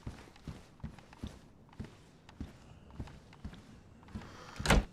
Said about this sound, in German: würde fast vorschlagen, jetzt machen wir die Tür zu